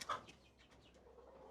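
A hen in a coop gives a sharp cluck at the start, followed by a few softer clucks and chirps that fade into quiet, faint background noise.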